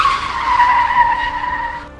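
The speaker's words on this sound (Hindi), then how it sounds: "टायर सड़क पर घिसने लगे।" Motorbike tyres skidding on a road during a sharp swerve, a loud, sustained screech lasting about two seconds before cutting off abruptly.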